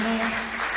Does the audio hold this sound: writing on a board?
no